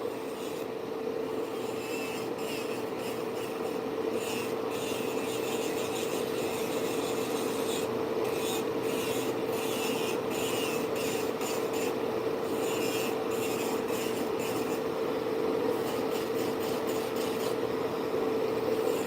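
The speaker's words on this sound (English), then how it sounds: "And I never use my drills on my practice hands, so this is a first for me." An electric nail drill runs on a practice hand, holding a constant steady whine with faint scratchy rasping and small clicks layered on top throughout, close and uninterrupted, with no voices.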